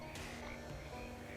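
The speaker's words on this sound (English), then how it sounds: "The second frog approaches and belches up a soggy piece of paper." A frog croaks in the video game Shadows Over Loathing, set in a swamp. The croak is a low, faint, steady rumble lasting just over a second, with no voices.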